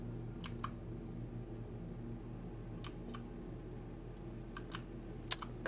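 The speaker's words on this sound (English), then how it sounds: "Clicking moves me forward." Sparse, quiet clicks from a computer mouse while playing the game Kairo, a pair early on, then a scattered cluster of sharp taps later, close and soft with no talking.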